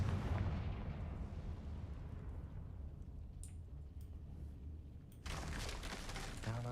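A fiery Confringo spell explosion in the video game Hogwarts Legacy, a deep booming blast that rumbles and decays, followed by a sharp crackling burst near the end.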